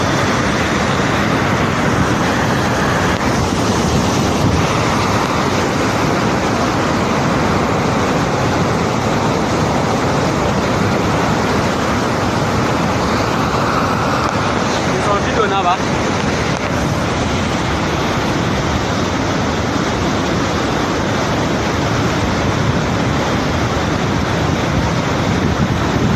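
Water rushing through Lagdo Dam in Cameroon, a continuous loud roar of churning water with heavy wind buffeting on the microphone, steady throughout with no pauses.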